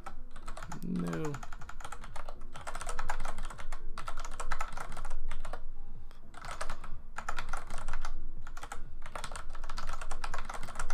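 Fast typing on a computer keyboard during a coding session, the rapid clicking keystrokes running steadily in bursts for the whole stretch, close and clear, with a brief voice sound near the start.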